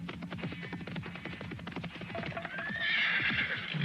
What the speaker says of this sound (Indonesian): Seseorang yang berkuda datang,